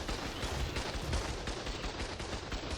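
Two turret towers fire guns in the video game Ark Survival Ascended, a dense, continuous rattle of rapid gunfire that runs unbroken at a steady loudness.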